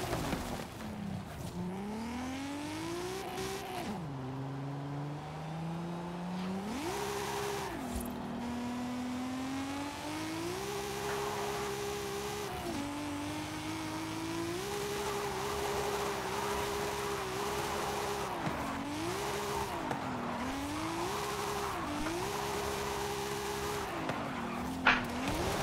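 Nissan 200SX S14 drifting in Forza Horizon 5, engine revving up and down in long swells with continuous tire squeal layered over it, rear-wheel-drive car sliding through corners with a couple of brief bumps.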